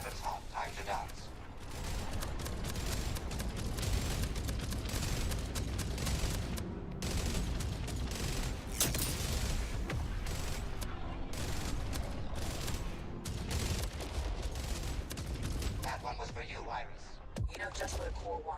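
Sustained, dense weapons fire in a space combat video game, loud and continuous rattling bursts layered with mechanical clanks, filling the whole stretch with barely a pause.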